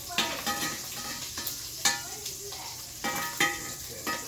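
A thin omelet sizzles in a pan beside cast iron cooking sausages. The frying is steady, with a few close clicks and scrapes of utensils, and there is no talking.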